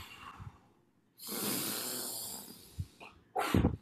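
Vigorous, shallow breathing through the nose, chest only, heard close up as a sustained forceful rush of air followed by short snorting exhales, with no talking.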